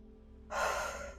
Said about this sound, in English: So if you would just breathe out